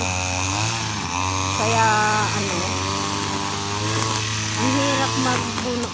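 A motorized grass cutter runs in a backyard, its engine whining and shifting pitch as it bites into the grass, loud and close, with a person speaking briefly over it.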